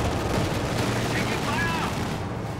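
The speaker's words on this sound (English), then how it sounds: "Here comes the quad. First burst on the infantry." A quad anti-infantry vehicle in Company of Heroes 2 fires a sustained burst, a dense, steady roar of rapid gunfire that fills the whole stretch without pause, packed tightly into the surrounding battle din.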